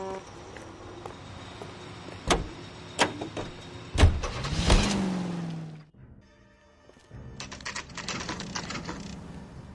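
A car in the L.A. Noire video game: sharp door clunks and thumps, then an engine starts and runs with a rising whine, followed by a quieter stretch of steady driving rumble.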